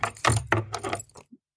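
A bunch of keys jangling, a few close metallic shakes in quick succession that stop abruptly.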